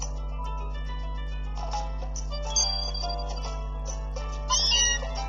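A synthesized game cry from Meowth in Pokemon Ultra Sun, a short series of bright electronic meows set over steady background music with no voices.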